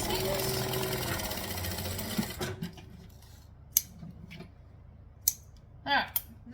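A sewing machine runs in a steady, fast whir while stitching along a zipper edge, then stops abruptly, leaving quiet with a few scattered clicks and handling noises.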